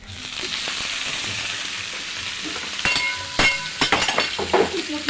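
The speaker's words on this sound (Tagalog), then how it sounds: "Magluluto tayo ng pakbet na may alamang." Pinakbet with shrimp paste sizzles and hisses steadily in a pan, then sharp clatters and scraping knocks of stirring break in toward the end, loud and close.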